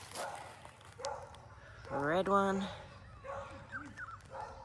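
Small dogs bark and yip in a garden, a short burst of barking that rises and falls near the middle, with someone talking over the start and end.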